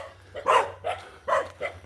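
Dogs barking nearby, four quick loud barks in two pairs within about two seconds, with no talking.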